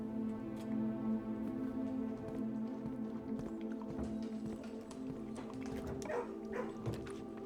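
A dog in a kennel in the game Blue Prince barks and yips several times over a steady droning background, the barks moderately loud and irregular.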